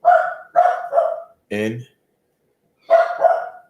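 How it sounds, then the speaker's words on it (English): An aging dog barks three times in quick succession, close and loud. A voice briefly cuts in, then after a silence the dog barks twice more. "That dog is getting old too."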